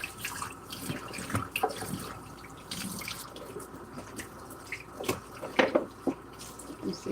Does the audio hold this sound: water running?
yes